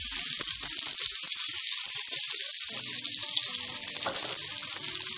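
Potato slices frying in butter in a pan over a low gas flame, a steady loud sizzle and crackle throughout with faint clinks of stirring, no talking.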